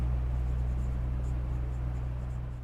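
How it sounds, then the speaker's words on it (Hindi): A red pen writing across a surface, a steady soft scratching that runs continuously over a low electrical hum, close and fairly quiet with no talk. "अब मैं थोड़ा रेड पेन से लिख देता हूं"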